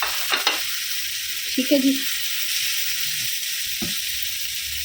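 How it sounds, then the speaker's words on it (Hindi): Chicken tikka pieces sizzle in a pan with a steady hiss, broken by a few stirring scrapes and clatters near the start and middle, while a voice briefly speaks over it. "हल्का सा इसको सीजल कर लेंगे। अब इसमें मैं सारा ये डाल दूँगी वापस से।"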